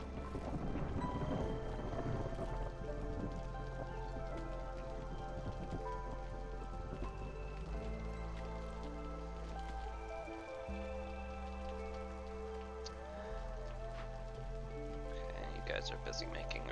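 Storm rain hisses steadily over a soft rumble of thunder in the video game Against the Storm, with faint game tones and effects layered on top. The sound is quiet and continuous, with no voices.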